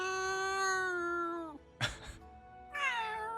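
A cat meows in a Legends of Runeterra video game: a long, drawn-out meow, then a short noisy burst, then a second rising meow, loud and close.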